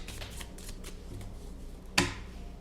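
Tarot cards shuffled in a riffle of soft flutters, ending in a single sharp slap as the deck is cut in half; close and alone, with no voices.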